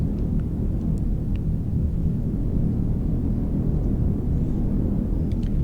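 Storm in the survival game Heat Death Survival Train: a steady, loud low rumble of wind and thunder rolls on without a break, with faint scattered ticks above it and no talk.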